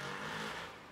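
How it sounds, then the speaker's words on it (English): A tuk-tuk's small engine runs in Sri Lanka with a steady, close, buzzing rumble that eases slightly toward the end of the brief moment. "now we are gonna go in a tuk-tuk so that we reach faster"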